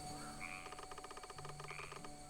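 A frog croaks in a Shin-chan video game, a rapid pulsing rattle lasting over a second under a sustained game-music drone, with a brief chirp at each end and no speech.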